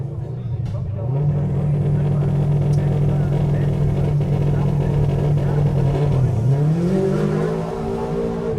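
A rally-spec Subaru Impreza with a 2.5 litre restricted turbo engine holds a steady loud drone before surging into rising revs as it launches off the start line and up the hill at the Ashley Forest Rally Sprint, with commentary running underneath.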